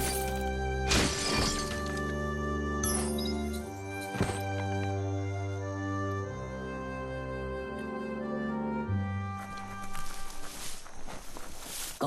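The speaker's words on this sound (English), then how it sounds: "You shouldn't worry about smashing up the box." A wooden box smashing in the video game Biomutant, with a few sharp cracking and breaking hits and footsteps over steady background music.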